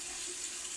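A bathroom tap runs while waiting for the water to turn hot, a faint, steady stream hissing into the sink without any voices.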